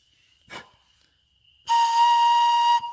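A homemade bamboo pan flute pipe is blown on a B flat note, a clear, steady breathy tone held for about a second after a short puff of breath, heard close with no talking.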